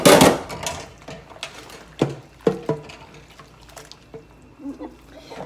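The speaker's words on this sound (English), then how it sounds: "I only have 7 dishes left to wash" Dishes being washed under running water: steady splashing and trickling, broken by several sharp clinks and knocks of plates and utensils, close by.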